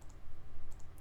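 A computer mouse clicking while dragging a selection in photo-editing software: a few short, sharp clicks, faint and close, scattered over about a second with no talking.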